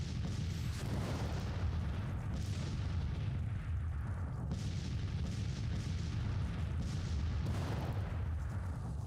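Civil War artillery bombardment in Grand Tactician: repeated distant cannon booms and rumbling explosions roll over a continuous low battlefield din, with heavier thuds recurring every couple of seconds throughout.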